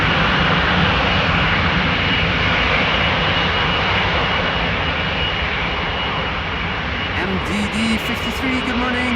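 Loud, steady roar of a jet airliner departing runway 18 Left at Amsterdam Schiphol, filling the whole clip close up, with a brief radio voice cutting in near the end.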